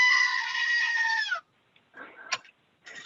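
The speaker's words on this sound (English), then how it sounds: "here's the goat. You see, this is what I use to get people's attention." A goat named Shasta bleats loudly in one long wavering call, then a pause and a few shorter, rougher bleats and snorts close by.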